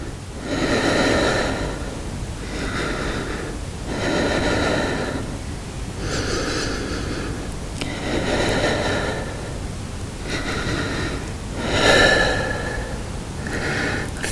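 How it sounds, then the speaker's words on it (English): Slow, deep breaths during a strengthening exercise for spinal stenosis, herniated disk and sciatica, heard close up as about six even cycles of long, airy inhales and exhales. "Full breath in, full breath out."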